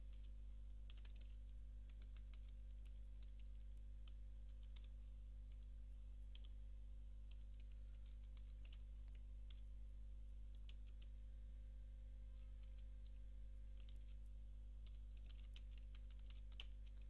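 Soft, irregular keyboard clicks tap away at a computer keyboard while Java code is written, faint and close over a constant low electrical hum, with no talking.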